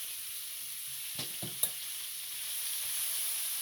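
Chopped whole onion sizzles in a hot pot, a steady bright frying hiss with a few soft clatters of stirring near the start, close and alone without speech.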